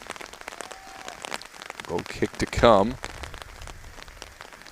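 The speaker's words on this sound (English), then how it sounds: "Rain still falling at a steady pace." Steady rain patters across a broadband hiss during a soccer match, continuous under a commentator talking throughout.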